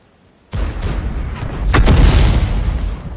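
A 105 mm leFH18B2 artillery gun fires a round in a tank video game on the Redshire map: one sudden, loud, close boom that rolls into a long rumbling tail.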